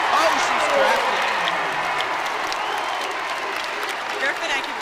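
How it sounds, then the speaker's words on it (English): A packed arena crowd at a Purdue at Indiana Big Ten women's basketball game roars and applauds in a loud, sustained wash, with a commentator talking over it. "As soon as she fell down on that floor, this crowd went crazy"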